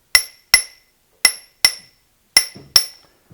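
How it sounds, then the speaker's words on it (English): Quartz is carved by hand at a millstone quarry: six sharp ringing metallic strikes land in pairs with short gaps between them, each one bright and clinking, then decaying quickly into silence. "There was actually some men up there by hand carving this quartz."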